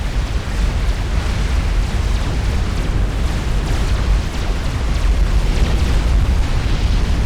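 Support commanders blowing up in a 4v4 Setons strategy game, a loud, continuous wall of rumbling blasts and booms that overlap for several seconds without a break.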